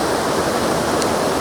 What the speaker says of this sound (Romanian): E peste un afluent al râului Neretva, deci nu e pe același râu, că ăsta e mult mai îngust, e îndiguit și foarte învolburat.